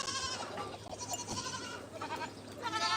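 Goats bleat repeatedly over a steady farmyard hum after being put in a pen with pigs, several overlapping calls spread across the clip at moderate distance, no talk.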